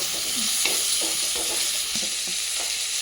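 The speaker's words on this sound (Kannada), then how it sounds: "ಶುಂಠಿ ಬೆಳ್ಳುಳ್ಳಿ ಪೇಸ್ಟ್ ಹಾಕತ್ತಾ ಇದ್ದೀನಿ" Ginger garlic paste frying in a pan while it is stirred, giving a steady close sizzle with soft scraping strokes of the spoon, in a home kitchen during a mushroom masala.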